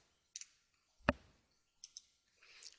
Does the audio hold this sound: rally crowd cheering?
no